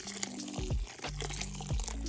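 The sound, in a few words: water washing a doll's hair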